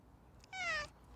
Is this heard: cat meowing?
yes